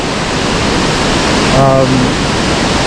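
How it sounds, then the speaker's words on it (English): Waterfall fed by the Pitt River along the Pacific Crest Trail, a loud steady rushing roar with a voice speaking briefly over it. "So it's pretty cool falls, in addition to the central ones that are fed by the Pitt Creek or Pitt River"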